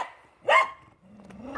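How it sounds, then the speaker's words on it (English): A pet dog named Ione gives a single sharp, loud bark indoors, followed by quieter low rumbling sounds. "for heaven's sakes, shush it. You're the worst dog."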